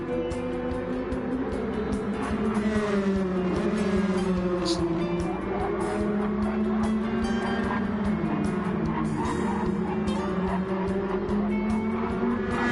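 Race cars in a sim racing game lap the High Speed Ring. Engines whine loudly and continuously, pitch rising and falling through gear changes, and faint tire squeal comes through in places.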